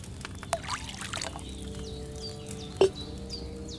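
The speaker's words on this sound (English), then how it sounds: "So, what did you pour in there? Spirits." Liquor poured into a vessel in Kingdom Come Deliverance 2, a faint trickling pour under outdoor ambience with distant birds and a sharp clink near the end.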